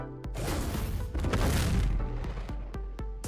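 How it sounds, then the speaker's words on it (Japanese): A Pyromane creature's explosive attack in the video game ARK: Survival Ascended booms as a loud, sustained blast that rolls for about two seconds, followed by a series of evenly spaced sharp ticks as it fades. "このように爆破攻撃を与えることができます。"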